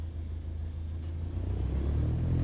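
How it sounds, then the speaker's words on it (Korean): In a flight simulator game, an aircraft engine rumbles low and steady as the throttle is gently increased for taxiing, building slightly louder toward the end. "gently increase throttle to get the aircraft moving"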